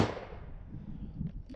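A single sharp report from a Yugoslavian 24/47 Mauser rifle firing surplus military ammunition at a range target, loud and close at the onset, then a rumbling tail that fades over a second and a half, with no voices.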